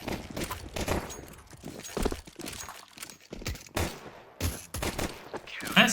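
Rapid gunfire from a Counter-Strike 2 match, with sharp, loud shots fired in irregular bursts and short volleys, mixed with clattering game effects and no talk.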